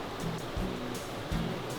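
Creek waterfall pouring into a small plunge pool in a remote Arizona canyon, a steady close rushing wash with a few heavier surges of falling water.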